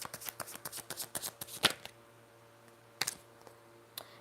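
A deck of tarot cards is shuffled in quick riffling bursts that stop partway through, followed by a few sharp card slaps and taps near the microphone, with a low steady hum underneath.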